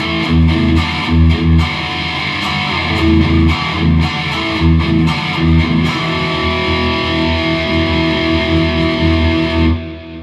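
Firefly Super FFST electric guitar on its bridge pickup, volume and tone fully up, boosted by an Ibanez TS9 into a Line 6 HX Stomp, playing distorted chugging chords and riffs that ring out at the end.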